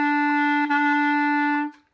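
A single sustained B-flat clarinet note from the introduction to a song, steady and clear, then a quick fade at the end.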